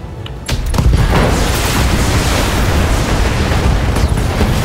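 Mech exploding in BattleTech, a sudden loud blast that roars on as a dense, sustained rumble of debris and fire, preceded by a brief quieter moment.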